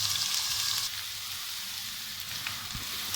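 Okra pieces frying in hot oil, giving a dense, steady crackling sizzle that stays loud and even throughout, with no voices.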